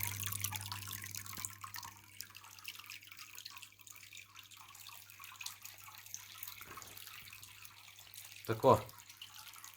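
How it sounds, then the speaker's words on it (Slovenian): Water pumped through a waterproofed-membrane stream bed trickles and drips steadily, with one louder splash near the end, and a voice speaks briefly. "Zdaj pustimo malo teči, da vidimo, če kje pušča"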